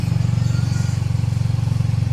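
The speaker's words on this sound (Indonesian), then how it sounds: "sekarang kita naik motor" A motorcycle ridden along, its engine humming steadily with a fast pulsing throb, close and loud with no voices.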